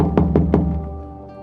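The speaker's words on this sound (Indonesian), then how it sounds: "terdengar suara dari luar mengetuk pintu" Three quick, evenly spaced knocks rap on a house door in the evening, close and fairly loud, then die away over a faint steady hum.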